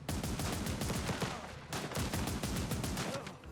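Rapid, continuous bursts of gunfire in the survival strategy game Last Train Home, shots cracking in quick succession for the whole stretch with barely a pause, loud and close.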